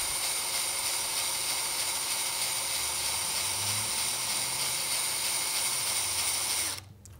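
A bass guitar's D and G strings being wound onto the tuning pegs, a steady whirring, ratcheting drone held close and loud, which cuts off abruptly near the end.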